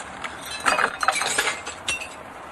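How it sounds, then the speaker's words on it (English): Old window glass being pulled from its frame, with a scatter of light clinks and glassy chinks in irregular bursts, close and moderately quiet with no talking. "off we go and pull out all that glass"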